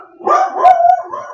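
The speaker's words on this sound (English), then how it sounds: "Dog won't shut up." A dog barks and howls close by in a single drawn-out, wavering yowl with a sharp bark in the middle, loud against a quiet room.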